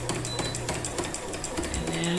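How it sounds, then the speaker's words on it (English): Home sewing machine running back and forth in one spot to lock a stitch at the end of a quilt-in-the-ditch seam, a close, steady mechanical whir with rhythmic needle ticks under a speaking voice. "move back and forth in the same spot to lock that stitch"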